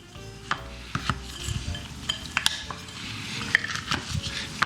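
Packed brown sugar being stirred and broken up in a mixing bowl for banana bread: steady scraping and rubbing with sharp utensil knocks against the bowl, at close range and with no talking.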